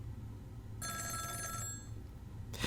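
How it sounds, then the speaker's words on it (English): A phone rings in the video game Ghost Trick, a bright electronic trill lasting about a second over a low game backdrop, then stopping before a brief burst of another sound. "Oh, phone."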